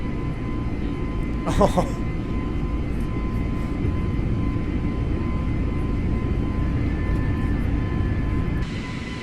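Airliner engines of an A320neo in a flight simulator game during a go-around, a steady, loud, broadband roar that runs throughout under a brief spoken exclamation.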